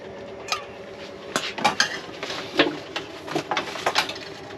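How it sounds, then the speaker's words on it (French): A spoon clinks against a pot as cornstarch is stirred into a sauce to thicken it in a camper van kitchen, giving scattered metallic taps and scrapes in an uneven rhythm, close but soft, without voices. "je vais y mélanger de la maïzena pour épaissir la sauce"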